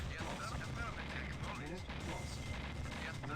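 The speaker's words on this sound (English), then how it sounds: "Oh, Mammoth Tank Battle" Mammoth Tanks in a Command & Conquer Red Alert battle fire in dense, overlapping bursts, with rapid mechanical clatter and booming shots packed together across the whole moment.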